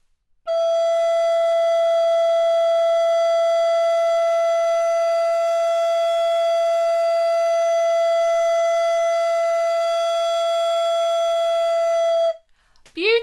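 An alto recorder sustains a long, steady note E, clear and pure with soft overtones, held alone for about twelve seconds before stopping.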